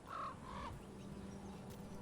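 A bird in the fantasy game Dragon Age: The Veilguard lets out a quick, harsh squawk, a couple of short raspy calls at the start over quiet game ambience.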